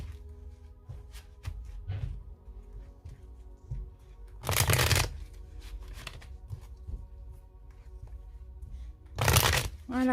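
A deck of tarot cards is shuffled by hand in two loud riffling bursts, with soft handling taps and slides between them and no talking.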